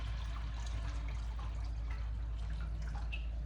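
Water poured into a pot while cooking dough dishes in a home kitchen, a steady running pour with faint drips, fairly close and alone without talk.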